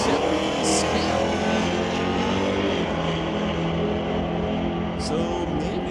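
Dodge Dart drag racing car of the Stone Cove Racing team running down the strip at a national pro race, a loud, sustained engine roar close up that holds steady throughout.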